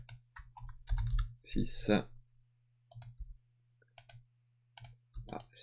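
Computer keyboard keys click in short, scattered taps, some single and some in quick pairs, close by, while someone speaks briefly between them over a low steady hum.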